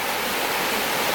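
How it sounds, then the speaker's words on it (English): Continuous broadband rush of a river flowing close by, a dense, even hiss and roar with no breaks and no voices. "I have to talk louder than I normally do because we're right by the river"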